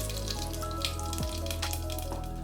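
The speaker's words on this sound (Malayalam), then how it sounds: "അതൊന്ന് ചൂടായി വരുമ്പോഴത്തേക്കും ഒരു 1/2 ടീസ്പൂൺ ജീരകം, കൊടുക്കും." Cumin seeds crackle and sizzle in hot oil for a couple of seconds, a dense, close frying hiss with faint pops and no voices.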